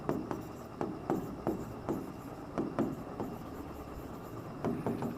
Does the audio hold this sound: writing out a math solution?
yes